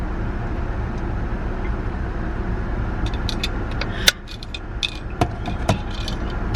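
A car on the road, heard from inside as a steady low engine and road rumble, with sharp clicks and thumps over the last few seconds as the cabin noise quiets briefly.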